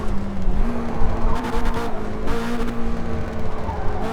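A race car in Forza Motorsport roars at high revs, the engine note rising and dropping through shifts with tire squeal and rough road noise, loud and close throughout without speech.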